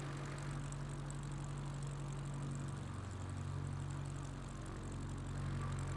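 A propeller airplane engine in the MS Flight Simulator video game drones steadily at a low pitch, an even, unbroken hum with no voices over it.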